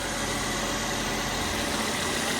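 Car engine idling smoothly after its motor mounts were repaired, a steady low continuous hum with no knocks or vibration surges, close and alone without voices.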